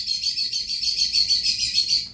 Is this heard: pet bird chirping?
yes